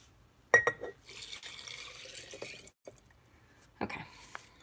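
Liquid is poured into a glass container while a tincture is being made, a few short splashes and trickles with quiet gaps between them and soft clinks of glass.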